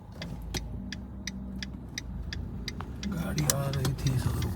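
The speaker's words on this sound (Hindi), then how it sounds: "गाड़ी आ रही थी तो रुकना पड़ा।" A car passing on a road near a cafe entrance, its engine hum swelling as it approaches, heard close alongside a steady ticking and background chatter.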